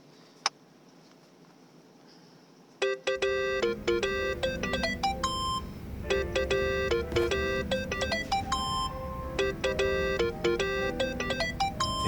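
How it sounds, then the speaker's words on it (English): A phone ringtone in the video game Yakuza: Like a Dragon starts after a quiet stretch and keeps ringing loudly as a steady, repeating electronic melody for the rest of the clip. "Think that's your phone."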